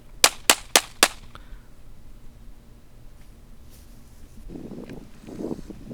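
Four sharp, loud shots ring out in quick, even succession from a Walther P99 AS third-generation pistol chambered in .40 S&W, each crack trailing a short echo before dull outdoor ambience and a faint rustle take over.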